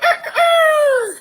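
A single rooster crow, loud and close, with a short clucking lead-in followed by one long drawn-out call that falls away at the end.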